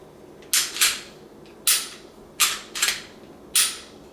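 The takedown switch on a Smith & Wesson M&P Shield 45 pistol is flipped, giving a series of sharp, close mechanical clicks, some doubled, spaced about a second apart with quiet between them.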